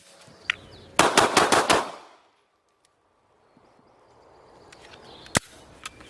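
Rapid shots crack from a Sig Sauer P365 pistol in a speed test, about six sharp reports in a fast burst that echo and trail off, with a lone later shot and faint ambient noise around them.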